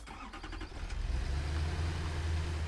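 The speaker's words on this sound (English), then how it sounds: "the good old weed whacker tractor, which of course we need motors for" A weed whacker tractor drives in the video game Satisfactory, its motor revving up from a low start into a steady, loud, rumbling engine drone that holds to the end, with no talking.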